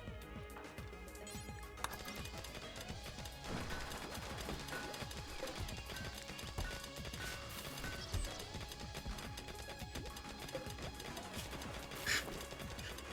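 Donkey hooves clip-clop in a video game, a faint, continuous patter of footfalls under a busy game soundscape with occasional clattering bursts, no voices.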